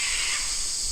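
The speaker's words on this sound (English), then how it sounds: "Oh, you hear the bird?" A crow-like bird gives a brief, hoarse caw outdoors, heard briefly against a steady background hiss.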